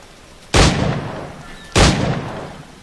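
Two loud pistol shots from Assassin's Creed IV Black Flag ring out about a second apart, each a sharp close crack that trails off into a long ringing decay.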